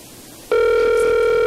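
A telephone starts ringing abruptly and holds a steady, loud electronic bell tone after a brief stretch of quiet room noise.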